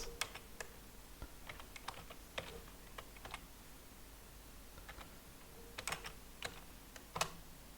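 Computer keyboard typing at a terminal, entering an SSH copy-ID command with a port number, username and IP address on an Ubuntu server: sparse, irregular clicky keystrokes in short bursts over a quiet background, with no talk.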